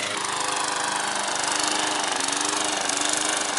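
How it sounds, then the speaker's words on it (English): A lawn mower cuts a hilly backyard, its engine a loud, close, steady drone that runs unbroken from start to finish with no talking. "Out here mowing the yard."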